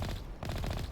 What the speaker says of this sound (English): You hear that? It sounds like a machine pistol.